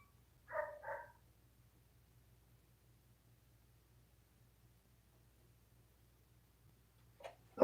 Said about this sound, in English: let the dog in so he'll shut up